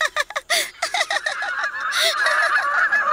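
A swan in an animated Buddha legend film honks in a rapid series of nasal calls, loud and close, running together into a longer strained cry toward the end.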